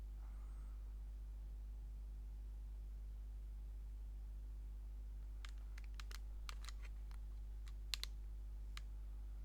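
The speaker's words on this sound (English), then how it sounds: "just simply release and click these two buttons," Button clicks on JBL Tune 450BT/460BT headphones: after a long quiet hum, a cluster of small crisp clicks arrives near the end, close and faint, some in quick pairs.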